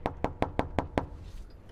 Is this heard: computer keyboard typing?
no